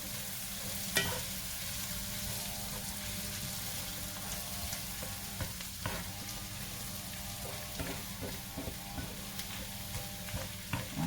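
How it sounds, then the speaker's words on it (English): A pan of flour being stirred and toasted toward a light tan for shrimp and crab étouffée, with steady sizzling and scraping strokes and occasional clinks of the utensil, close and continuous with no voices. "Just want to keep on cooking and moving it until you see your flour"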